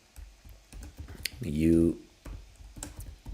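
Rapid clicks of a computer keyboard as a name is typed into a form builder, mixed with a person speaking and other brief sounds.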